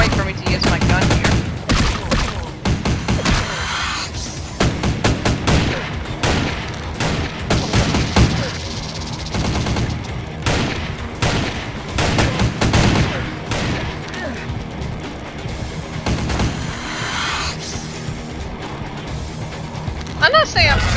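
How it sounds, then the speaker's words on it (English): Sustained gunfire from a gun in Vampire the Masquerade: The Final Nights, dense rapid bursts of shots and impacts running loud and continuous throughout. "Be a good point for me to use my gun here."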